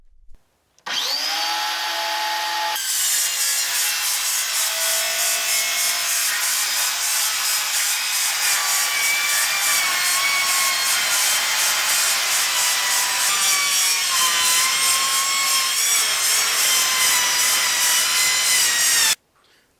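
Sheet metal being cut in half with a power tool for raised garden bed end walls, a loud, harsh, high-pitched screeching grind that runs steadily for about eighteen seconds after a brief start-up, then stops abruptly.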